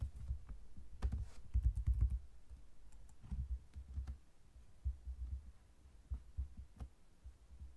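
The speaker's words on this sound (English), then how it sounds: "I'm going to type in Python version to see that the path was added" Someone types a Python version check at a Windows command prompt, producing soft irregular keyboard clicks in short bursts with brief pauses, close and fairly quiet, with no voices.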